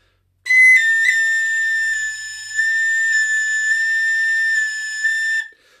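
A tin whistle holds a single sustained cross-fingered G sharp, bright and steady with a slight waver in pitch, played alone for about five seconds.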